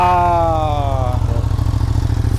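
A motorcycle engine runs loud and close with a steady pulsing idle, while a falling drawn-out tone fades over it in the first second.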